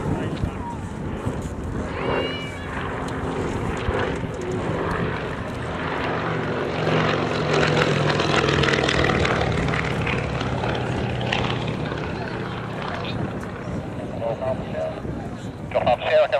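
Continuous loud drone of a propeller aircraft at an airshow, steady engine and prop noise filling the scene with a voice talking over it.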